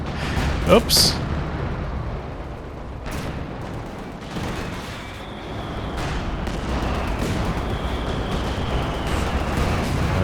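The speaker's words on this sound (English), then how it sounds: "was that friendly fire from the 152?" Artillery shells from a 152 gun explode in a Company of Heroes 2 battle, a loud sharp blast early followed by scattered distant booms and gunfire, with a voice speaking briefly over it.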